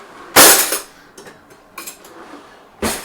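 A Cutco kitchen knife pulled out among kitchen utensils, giving a sharp metallic clatter followed by a few lighter clinks and a final knock, close and clear.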